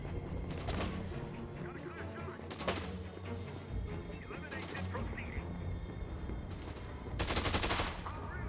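The Blambo weapon firing in the video game Dead Rising 2, heard as repeated loud bursts and crashes over several seconds with dense game noise and a voice talking throughout.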